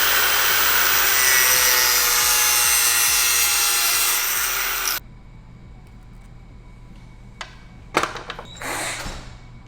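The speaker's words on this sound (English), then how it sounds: "So I'm going to use the old school trick of some tape and a grinder" An angle grinder cuts through a taped hydraulic hose with a loud, steady high-pitched whine for about five seconds, then stops abruptly, leaving quiet handling clicks and rustles.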